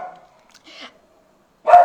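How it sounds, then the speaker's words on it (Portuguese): A female pet dog barks indoors at home, a few separated yips followed by one louder, closer bark at the end, with quiet gaps between. "Vocês estão ouvindo a minha cachorra latindo?"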